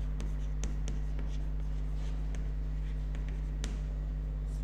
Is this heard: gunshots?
no